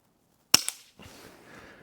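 A single sharp shot from a Pinty Buster .177 nine-shot pellet pistol fitted with a suppressor, a crisp close crack with a quick second click, then a soft hiss trailing off.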